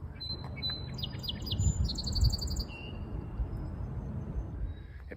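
Several birds sing and chirp outdoors from trees, rooftops and lampposts, with repeated high whistled phrases and trills over a steady low rumble of background ambience.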